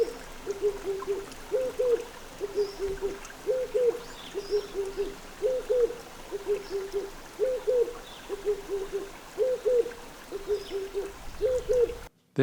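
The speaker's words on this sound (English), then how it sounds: "There are several pairs of spotted eagle owl around Greyton" A spotted eagle owl near Greyton, South Africa, gives a long series of paired low hoots at regular intervals, close and clear, over a faint trickling stream.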